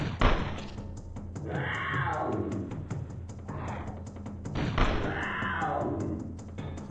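Gunfire in Turok: Dinosaur Hunter on the Nintendo 64, heard as dull thumping shots and impacts spread over a busy in-game soundscape, with a few heavier bursts standing out.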